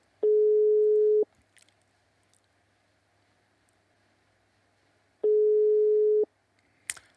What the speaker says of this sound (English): the phone is ringing again